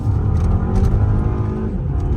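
A Volkswagen turbo four-cylinder with DSG in sport mode and traction control off accelerates hard from close by, the engine roaring steadily as the wheels spin.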